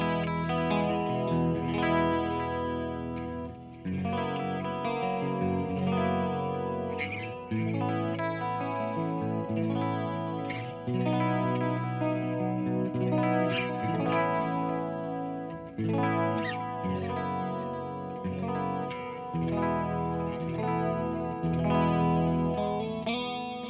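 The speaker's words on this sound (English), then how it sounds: "let's turn on the Julia chorus and the flashback delay and see how it sounds dressed up" An electric guitar runs through a Friedman JEL 50 amp with Julia chorus and Flashback delay. Distorted chords and riffs play steadily throughout, swirling and echoing, loud and up close with no voices.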